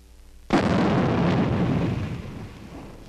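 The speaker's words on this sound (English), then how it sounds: "The men are throwing live grenades for the first time." A live hand grenade explodes during throwing training: one sudden loud, deep blast that breaks the quiet and then rumbles and fades slowly over several seconds.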